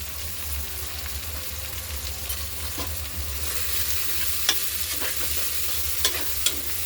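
Cauliflower and tomato with turmeric being stirred in a pan for khichdi, a steady soft sizzle running throughout with a few sharp scrapes and clicks of the spoon against the pan.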